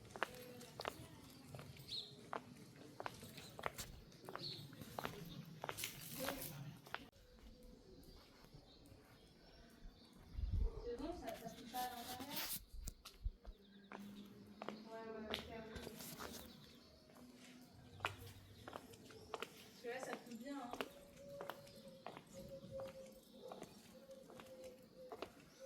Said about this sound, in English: It's so quiet, all you can hear are our footsteps